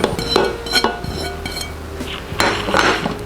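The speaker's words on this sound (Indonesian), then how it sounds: "Selanjutnya kita mau masukkan potongan jamur." Mushroom pieces are tipped into a pan of browned beef for Bolognese sauce, making close clinks and knocks of a utensil against the pan and a few scattered clatters over a faint background sizzle.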